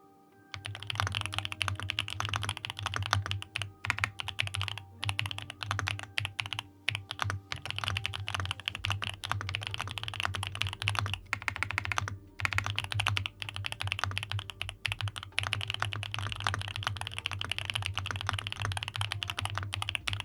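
Fast, continuous typing on a thocky Marshmallow mechanical keyboard, with close, dense key clacks and only short pauses, no voices.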